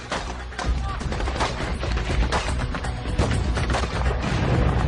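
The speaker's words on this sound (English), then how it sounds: "a convoy of Marines comes under heavy fire while driving past Baghdad" Heavy gunfire on a Marine convoy driving past Baghdad University: a dense, continuous barrage of loud rapid shots and bangs, with voices partly audible underneath.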